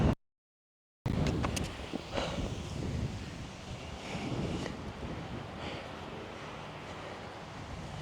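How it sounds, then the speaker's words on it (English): Wind gusting across a golf course, rumbling and buffeting close against the microphone in uneven surges after a brief silent gap at the start, with no talking. "Look at this wind."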